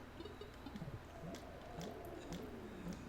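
Birds in the Final Fantasy XII The Zodiac Age video game call with soft, cooing, pigeon-like warbles that rise and fall repeatedly over a steady background hum, several short calls in a loose sequence.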